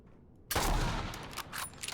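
Gunfire through metal grates in the video game Fallout 4: a sudden loud burst of shots after a half-second of near silence, followed by a decaying rattle and a few trailing cracks.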